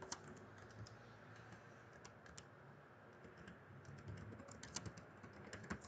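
Fast, uneven typing on a computer keyboard while entering text into CorelDRAW X8 for a business card design, a near clatter of light key clicks in quick bursts with short pauses.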